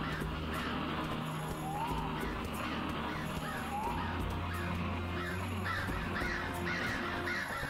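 Summoned crows caw repeatedly in the Ghost Lore action RPG, a string of harsh calls layered over steady game music and effects, moderately quiet and continuous.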